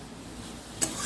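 Taro leaves and stalks cooking with prawns in a pan, a steady low sizzle with soft stirring scrapes and one sharper clatter near the end.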